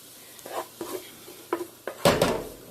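Meat stirred into a sesame oil sauce in a pan for lettuce wraps: a handful of separate utensil scrapes and clinks against the pan at uneven intervals, ending in a louder sizzling clatter, close up with no voices.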